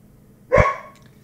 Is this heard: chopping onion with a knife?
no